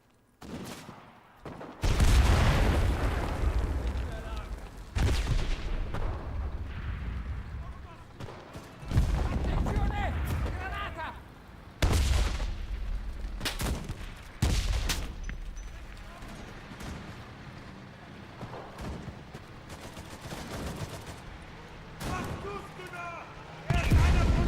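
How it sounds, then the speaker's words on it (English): Enemy gunfire and explosions in the World War II shooter game Enlisted: repeated loud bursts of shots and booming blasts over a constant battle rumble, with voices mixed in. "We've got enemy fire on the flank."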